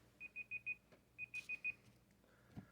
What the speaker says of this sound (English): sorry about the timers, by the way.